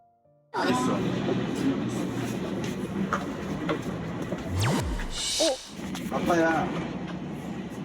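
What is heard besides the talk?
interior of a train going to the airport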